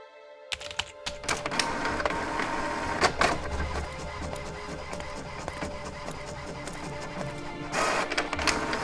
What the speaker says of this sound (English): The card is inside the printer, ready to go